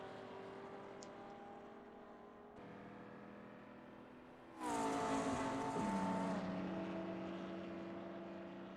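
Vintage 1950s Formula 2 racing cars in a racing game roar along a forest road in Switzerland, a steady engine drone jumping to a loud close pass with a falling-pitch sweep, then settling back to a sustained hum.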